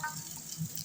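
Taro stolons sizzle and fry in a pan while being stirred, a steady close hiss with soft scraping and light bubbling throughout.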